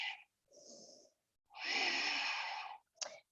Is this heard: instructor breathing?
yes